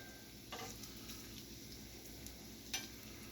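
Bacon frying on a Steelmade USA flat top griddle, a steady soft sizzle throughout with a couple of brief sharper crackles and spatula scrapes.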